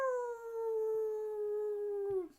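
A voice imitates a wolf howl in one long, loud, steady sustained tone that gently falls in pitch and fades away at the end, heard alone without any other talk.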